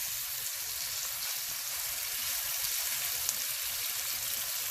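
Chicken pieces frying in a pan give off a steady, close hiss and crackle that runs on without pause, with no voices.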